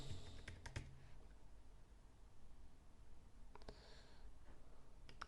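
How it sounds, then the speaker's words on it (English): Computer keyboard typing, faint and close, in quick bursts of key clicks: a short cluster near the start, then a quieter stretch, then more clatter toward the end over a steady low background hiss. "now let's type in copywriting"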